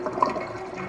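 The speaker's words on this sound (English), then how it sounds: "it just makes the toilet flush" A toilet flushing inside a virtual Diagon Alley, a short steady rush of gurgling water at moderate level with no talk.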